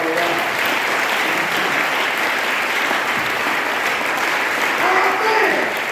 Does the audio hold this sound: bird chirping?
no